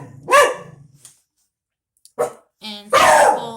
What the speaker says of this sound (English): my dog is going off